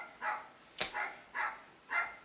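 A single dog barks four times in quick succession, short sharp yaps spaced about half a second apart, fairly faint and heard alone with no talking.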